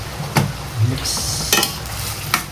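A sugar mixture gets stirred in a hot pan, with steady loud frying hiss under scraping strokes and a few clinks of a utensil against the pan.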